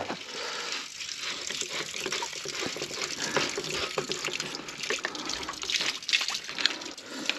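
Water drains steadily out of a farm irrigation boom system after its filter is removed, a continuous close gushing and splashing flow with small drips throughout.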